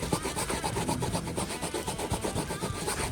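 A plastic bag rubbed back and forth over a truck's surface, a continuous, fairly quiet scrubbing rasp with an even rhythm, close up and without talk.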